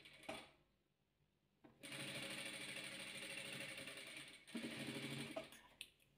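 A sewing machine stitching fabric, sewing a green piece, runs in a steady, continuous whir close by after a short quiet pause, then stops briefly and starts again near the end.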